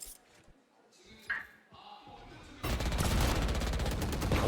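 Gunfire in the tactical shooter game Valorant during a competitive match: after a quieter lead-in with faint effects, a dense stream of rapid shots starts abruptly and continues loudly to the end.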